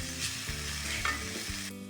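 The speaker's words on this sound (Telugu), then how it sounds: "అరటి పువ్వు అంతా బాగా ఫ్రై అయ్యింది చూడండి" Banana flower fries in a pan while being stirred, a steady close sizzle broken by scraping strokes, with music playing underneath.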